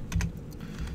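Short burst of computer keyboard typing, a few close soft key clicks over a low room hum.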